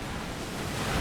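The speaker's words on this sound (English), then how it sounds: "Muddy Water is going to hit both of them." Muddy Water move in a Pokémon VGC battle, a dense, steady rushing wash of water like crashing surf, loud and continuous for about a second, with no voices.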